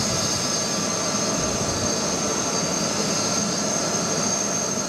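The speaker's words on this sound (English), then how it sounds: "The first French presidential aircraft to touch down in Accra" A French presidential jet landing in Accra gives off a loud, steady jet engine roar with a high whine, continuous throughout with no pauses.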